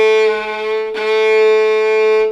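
A bowed violin G string played with too much weight on the bow gives a sustained, harmonically rich tone with a gritty, pressed edge. A scratchy bow change breaks in near the middle, and the note plays alone without talk.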